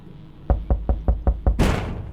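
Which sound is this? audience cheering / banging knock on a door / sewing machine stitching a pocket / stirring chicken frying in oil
banging knock on a door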